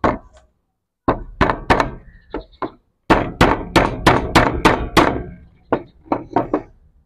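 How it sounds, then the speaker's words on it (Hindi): Nails are hammered into a wooden beehive frame above the eyelets with sharp, loud, close thunks, first in scattered strikes, then a quick run of about eight blows, then a few lighter taps. "सबसे पहले 2 कील लगाने हैं जहां हमने आईलेट लगाए थे उनके ऊपर।"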